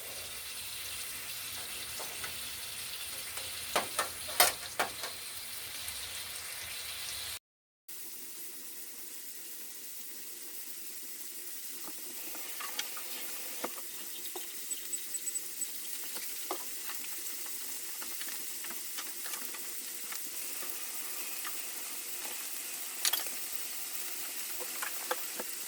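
Chicken for a smothered mushroom chicken dish cooks in a pan with a steady, fairly quiet sizzle, overlaid by running tap water and small clinks from washing at a sink nearby.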